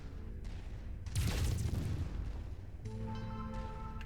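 Mech weapons firing in Mechwarrior 5: Mercenaries, medium lasers and an autocannon, a loud booming burst followed by rumbling blasts and a sustained, tonal weapon whine.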